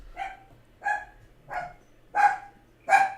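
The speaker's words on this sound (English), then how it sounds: "Don't you start, dog." A dog barks five times in a steady, evenly spaced rhythm, sharp and fairly close, with quiet gaps between each bark and no talk over it.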